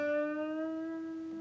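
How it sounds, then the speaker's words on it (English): A single electric guitar note bent on the 7th fret of the G string, a clear sustained tone with steady harmonics gliding slightly in pitch and slowly fading, played alone with no talk. "we are doing this bend on the 7th fret of the G string like this"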